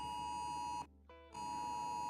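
A flash flood warning emergency alert sounds on a phone as a loud, piercing steady tone, broken by a brief lower-pitched dip before resuming at full strength, with no talking.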